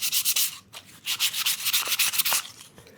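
Sandpaper of 240 grit rubbed back and forth over a wooden tray part, a close, steady series of quick scratchy strokes with brief pauses between bursts.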